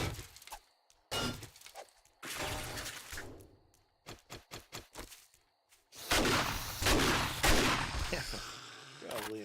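Gunfire in the survival game 7 Days To Die: sharp shots in scattered clusters, a quick run of evenly spaced bursts midway, then a dense stretch of loud shots with shattering impacts.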